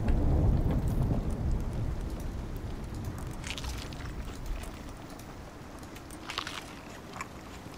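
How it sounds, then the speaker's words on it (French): Stormy weather in the survival game Icarus, with a loud broadband rumble of thunder and steady rain that gradually eases, plus scattered splashes and gusts over the continuous wash. "On a une tempête là."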